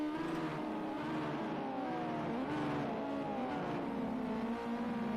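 Race cars lap a track during a qualifying session of a PlayStation 4 racing game, a steady layered engine drone with shifting pitch and occasional revving, continuous and fairly loud throughout.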